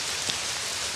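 Steady rain pours down as a dense, even hiss lasting about a second, loud and without voices.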